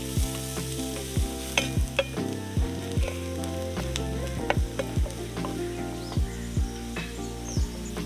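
Finely chopped onions sizzle steadily in hot oil in a pan, with repeated scraping and stirring strokes over the frying; no voices.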